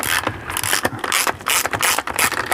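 Wheel being removed from a skateboard truck, a rapid series of close ratcheting clicks and mechanical rattles in quick bursts, loud and without speech.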